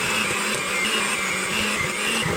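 A steady, loud whir from an electric hand mixer beating flour into Christmas cookie dough, a constant motor drone with a faint rhythmic churn, no voices over it.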